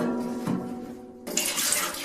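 Tap water runs into a newly installed utility sink during a leak test, a soft trickle at first, then a louder, brighter gush of flowing water for the last second.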